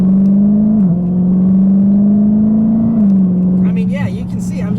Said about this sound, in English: It's just got that old American muscle sound to it too.